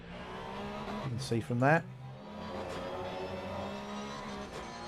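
Porsche Cup race cars corner at Paul Ricard in a sim racing game, engine notes rising and falling as the cars pass, with one sharp burst of revving, under a commentator's talk.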